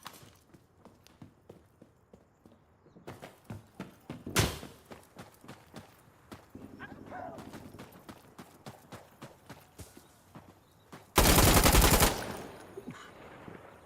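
Gunfire in a realistic shooter game: a loud, sustained full-auto burst near the end, with an earlier single sharp shot and many scattered clicks and taps throughout.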